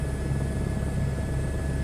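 A helicopter in a flight video game spinning in place: a steady, continuous rotor and engine drone with a low rhythmic chop and a thin high whine, even and unbroken.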